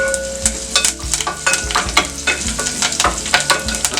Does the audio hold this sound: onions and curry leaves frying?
yes